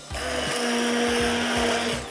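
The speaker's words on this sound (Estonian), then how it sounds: "nüüd jääbki ainult kogu segu kokku saumikserdada" Immersion blender whirring through a mango-raspberry smoothie mixture, a loud steady motor hum with grinding, gurgling texture and a few pulsing dips in pitch as the blade works, close and continuous without speech.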